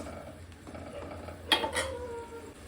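A spoon scrapes and clinks against a pot while fish curry is stirred, a couple of short metallic knocks over a low, steady kitchen background.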